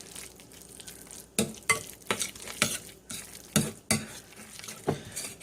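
A spoon stirs a cream cheese and spinach stuffing in a bowl: a series of soft, wet, squelching strokes in an irregular rhythm, close and fairly quiet, with no talking.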